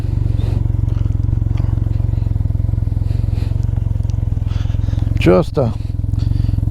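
A 2022 Can-Am Ryker 900 three-wheeler cruises a backroad, its steady engine drone and rhythmic pulsing loud and close throughout, with a brief voice breaking in near the end.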